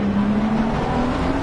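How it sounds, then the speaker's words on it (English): Engine drone of a Bentley race car in Assetto Corsa Competizione, steady and loud with a sustained low tone, heard on board under braking at Misano. "Let's have a look at Ben's Bentley, see how she's reacting under braking."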